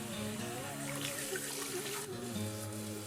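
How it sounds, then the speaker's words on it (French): Tap water runs steadily while rinsing a denture, a continuous close splashing rush with small shifts in the flow. "on va rincer à l'eau claire, de l'eau froide légèrement tiède. Alors sous un robinet ou un pommeau de douche"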